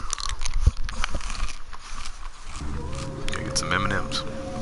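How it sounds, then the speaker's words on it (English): Loud, close crunching of M&M candies being chewed, a burst of sharp crunches early on, with talking and game sound running underneath. "I'm gonna crunch really loud for a couple minutes"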